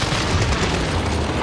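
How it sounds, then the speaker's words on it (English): Airstrike explosion in a Spanish-speaking multiplayer video game session: a loud, dense rumbling blast with heavy low-end boom that holds steady for over a second. "Airstrike, you are cleared"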